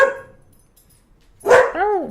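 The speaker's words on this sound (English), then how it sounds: "Angry pup." An angry dog barks, with one bark at the start, then a loud close bark followed by a rising-falling yowl, with a quiet pause between.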